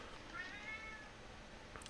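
A cat meows once, faint and distant, a short thin cry in the middle of a quiet room with steady background hiss.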